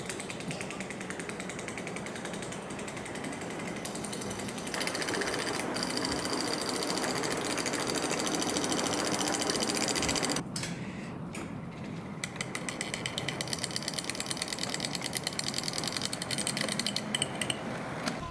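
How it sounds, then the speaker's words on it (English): Sandpipes on a new On Track Models 82 Class model locomotive scrape across the track sleepers in a steady, close mechanical grinding and rattling that briefly drops out, then returns as a rapid ticking chatter. "one of the sandpipes seems to be grinding on one of the sleepers"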